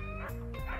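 A rescued dog barks in a home, a short yelping bark standing out near and loud against faint background sound.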